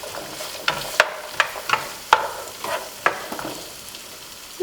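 Chicken and vegetables sautéing in a pan as sweet potatoes go in, a steady close sizzle broken by sharp clacks and scrapes of stirring at irregular intervals.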